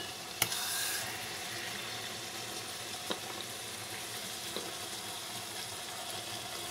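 Grated carrots roast in ghee for gajar ka halwa, giving a steady, soft sizzle and hiss that runs alone throughout, with a couple of faint clinks.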